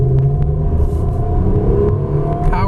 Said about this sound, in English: We'll be doing a 0 to 60 acceleration pull over here